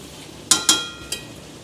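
Mutton kosha frying in a pan as chillies are sprinkled in: three sharp metallic clinks of a utensil against the pan over a faint, steady background.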